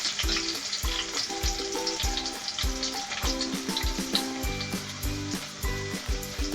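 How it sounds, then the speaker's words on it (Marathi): Loud, continuous sizzling of garlic frying in hot oil, crackling up close, with background music playing underneath. "तर हे पहा आपलं तेल तापलेलं आहे अगदी छान त्यात पहिला सगळ्यात आधी लसूण घालण्याचा"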